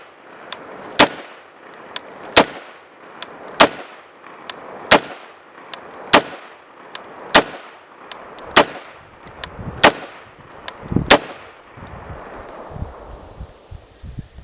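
Rapid series of sharp rifle shots from an IWI Carmel 5.56 rifle, about ten evenly spaced loud cracks each with a short decaying echo, fired outdoors with no talking.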